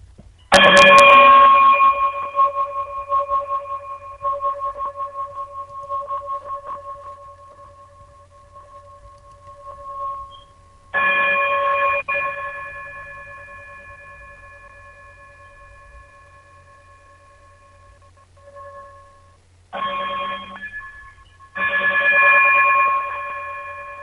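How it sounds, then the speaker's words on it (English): Struck chimes ring out to close a radio show, a clear resonant tone that lingers and fades, then several more strikes follow at uneven intervals, each sustaining for seconds. "Brother Braggs, if you would be so kind to chime us out."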